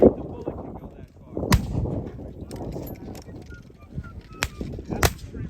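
Three rifle shots ring out at a Gettysburg encampment shooting demonstration, sharp cracks spaced over several seconds above outdoor crowd murmur and distant honking.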